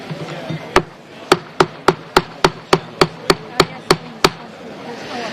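A chair's gavel raps sharply on the bench about a dozen times at a steady, brisk pace in a European Parliament hearing room, loud and close over a murmuring crowd.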